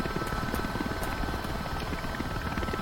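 Steady, loud helicopter rotor and engine drone from a chopper in Microsoft Flight Simulator 2024, continuous throughout with a dense low thrum and no talking.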